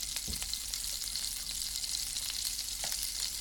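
Chopped garlic frying in a pan for creamy mushroom spaghetti, a steady close sizzle with faint scraping stir sounds and no talk.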